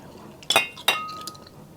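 Two bright glass clinks ring out in quick succession during a family toast over a Mang Inasal meal of inasal chicken, pork sisig and barbecue on sticks, each strike leaving a short ringing tail.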